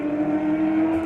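Mustang race car in a GT Challenge race at Phakisa Raceway, its engine droning steadily at a sustained, even pitch, loud and close, with no voices over it.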